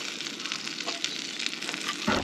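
A ham, tomato and cheese sandwich fries in butter in a pan, giving a steady, close, crackling sizzle that lasts throughout, with a brief low bump near the end.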